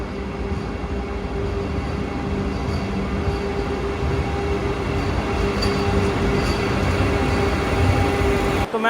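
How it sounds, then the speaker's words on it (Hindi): Vande Bharat Express standing at a platform of Rani Kamlapati railway station, a steady, continuous hum of train and station ambience with a faint low drone and occasional light clanks, no talking. "तो मैं आ चुका हूँ स्टेशन के अंदर और जैसे ही स्टेशन के अंदर आया अपनी वंदे भारत आगे लग चुकी थी"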